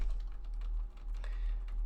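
Keys clatter on a computer keyboard during a late-night coding session, a quiet, steady run of light taps over a low constant hum.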